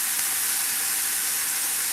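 Mushrooms steaming and sizzling hard in a hot, dry pan before any fat goes in, a loud, dense, steady hiss that runs unbroken throughout with no voices.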